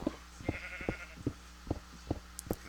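Sheep bleating in the video game Minecraft, a series of short, evenly spaced bleats repeating roughly every half second over a faint steady background, with no talk.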